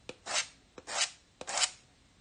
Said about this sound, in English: see what scraping looks like on a wet surface